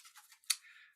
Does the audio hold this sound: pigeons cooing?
no